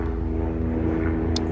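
A helicopter passes by outside, a steady low rotor and engine drone holding at moderate loudness through the whole moment, with no talking over it.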